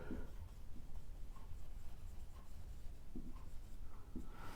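Chalk or marker scratching across a classroom board during a Hindi lecture on cumulative compound DC motors, faint short strokes and taps over a steady room hiss, with no talking.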